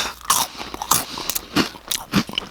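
Chips are crunched close to the microphone in ASMR style, with sharp crisp bites and chewing in uneven bursts, loud and dry with short pauses between them and no talk.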